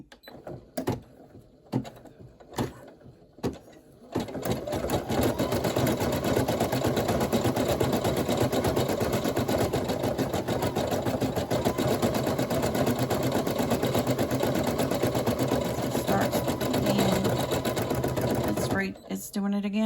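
An embroidery machine stitches a monogram onto a minky lovey with a silk back, its steady rapid needle chatter running loud and continuous for most of the stretch after a few sparse clicks and thumps at the start.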